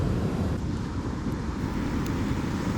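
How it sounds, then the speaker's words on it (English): Ocean waves roll and wash in a continuous broadband surf roar, steady and fairly loud, with a rumble of wind across the microphone and no talking. "let you enjoy these ocean sounds"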